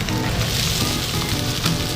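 Gnocchi frying in olive oil in a small pan, a dense, steady crackling sizzle close up, loud and continuous with no voices over it.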